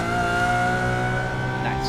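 Lamborghini engine in a driving video game, a steady droning hum with harmonic tones that rises slightly in pitch near the end, loud and continuous.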